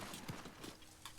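Horse hooves clip-clop in the video game Ghost of Tsushima, a few quick uneven hoof strikes at moderate distance, quiet, ending with a sharper louder hit.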